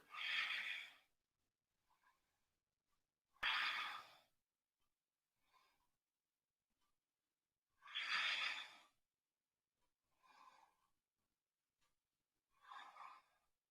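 Deep, slow breathing during a yoga exercise, about six long breaths separated by quiet pauses, some loud sighing exhales and softer, fainter ones, heard close with no talking.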